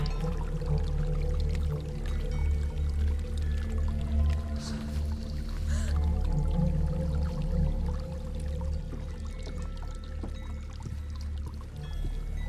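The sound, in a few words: waterfall in video game Hellblade: Senua's Sacrifice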